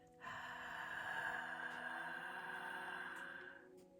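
One long, deep inhalation taken close to the listener during a relaxation exercise, steady and fairly quiet, lasting several seconds.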